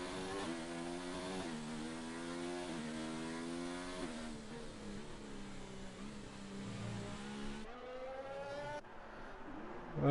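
Formula 1 cars in the F1 2019 racing game on the Canada circuit in intermediate conditions, a loud high engine whine climbing through gear shifts in repeated revving sweeps, with no talk.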